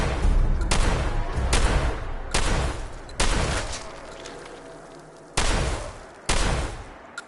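Enemy gunfire in Fallout 4 with survival mods: loud bursts of shots come in separate volleys, each hitting hard and then trailing off into quieter stretches between them, with no talking over it.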